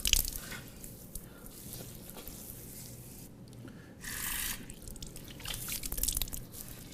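Water splashed onto the face during ablution, wet squishing and dripping with a brief louder splash in the middle and more rubbing toward the end, close by and moderately loud.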